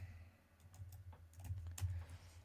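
Soft keystrokes tap out on a computer keyboard in a quiet room, a loose uneven run of clicks growing a little busier toward the end.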